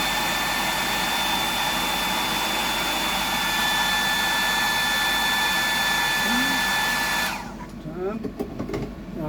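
Hair dryer-style dryer blowing on fresh paint on a custom fishing lure, a loud steady whooshing whine with a thin tonal hum, running for several seconds before cutting off, leaving quiet handling noise.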